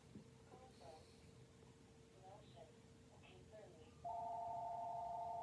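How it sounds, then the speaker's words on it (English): A phone rings during a college football rankings broadcast, a steady electronic tone starting near the end and holding loud over quieter background talk. "only a phone will go off during my broadcasts"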